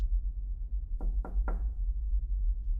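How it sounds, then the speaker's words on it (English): Three quick, evenly spaced knocks on the front door in a video game, crisp and moderately loud over a steady low background hum. "There's a knock."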